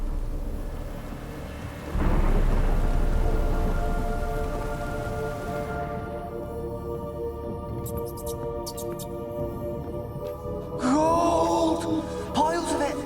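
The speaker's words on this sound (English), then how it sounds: "A storm, damn it." A thunderstorm in the video game The Witcher 3: Wild Hunt brings a deep, loud thunder rumble over steady falling rain, which fades toward a quieter drizzle, and a voice comes in near the end.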